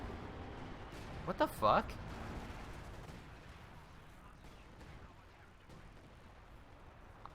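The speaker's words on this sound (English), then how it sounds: "where's that artillery coming from?" A Katyusha rocket artillery barrage in Company of Heroes 2 erupts in a cluster of loud, sharp blasts within a couple of seconds, followed by lingering rumble, while a player exclaims over it.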